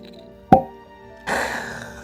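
A synthetic cork popping out of a Kirkland vodka bottle gives one sharp, close pop, followed a moment later by a soft airy rush of sound.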